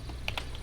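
A few quick computer keyboard keypresses while entering numbers, two clear taps close together with a fainter one after, in a quiet room.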